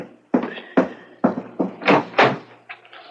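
Several heavy knocks on a front door, an uneven run of about seven close, loud raps, with no talk.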